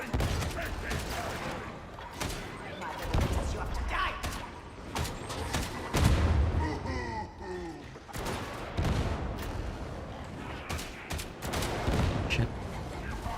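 Sniper and other gunfire from the video game Darktide crack out in sharp repeated bursts amid a busy battle mix, loud and close, with speech and game sounds layered over and between the shots.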